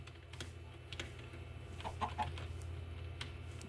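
Minecraft chickens in the Tekkit Lite modpack cluck in short bursts over a steady low background hum, with a few quick clicks scattered through, fairly close and moderately loud, without speech.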